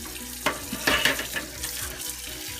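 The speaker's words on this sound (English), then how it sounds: "we're gonna pull our sleeves up here and wash some dishes" Dishes being washed in a kitchen sink, with clattering, splashing water and scraping bursts that come and go at close range, and no talking.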